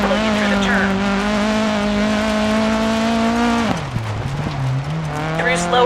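A front-wheel drive rally car in the Dirt 4 video game drives through turns, its engine droning loudly and steadily, then dropping in pitch as it slows for a corner before revving back up.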